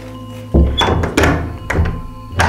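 A door pushed shut against a draught gives a heavy thunk followed by a few rattling knocks and bumps, close and fairly loud.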